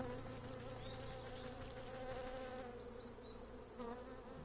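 Bees buzz in a steady, dense drone around the queen bee in the swamp area of the video game Wytchwood, with no voices.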